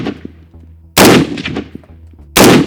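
Two loud, sharp rifle shots firing M80 rounds at a target, about a second and a half apart, each with a brief ringing decay, near and with no talking.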